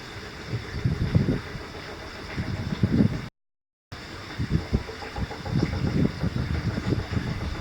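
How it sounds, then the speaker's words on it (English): An electric pump in an outhouse, switched on during a check for nuisance RCD tripping, runs with a steady low mechanical hum and rumble. The sound cuts out completely for about half a second partway through, then resumes. "Pump's working."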